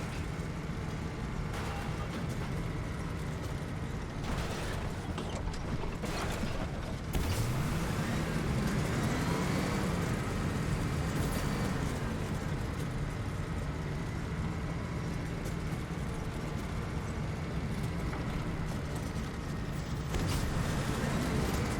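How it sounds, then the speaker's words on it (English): Tank driving in the Fortnite video game: a steady low engine rumble with grinding, creaking mechanical noise runs continuously and fairly loud, with no talk over it. "we get the tank. We need to use the tank for 300 meters"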